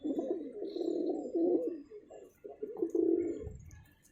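Pigeons coo steadily in a coop, several birds' low, rolling calls overlapping in a continuous warbling chorus with a few faint higher chirps, close by and with no talking.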